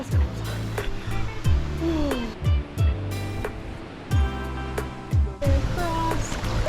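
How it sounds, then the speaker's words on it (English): Someone swims through a pool in the Subway slot canyon in Zion, with repeated close splashes and strokes over a steady wash of moving water. "I'm going to have to swim my way through"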